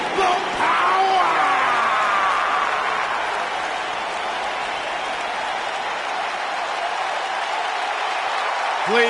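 Arena crowd noise from the WWE 2K19 wrestling video game, a dense sustained roar of applause and cheering that stays loud throughout, with a few shouts rising over it.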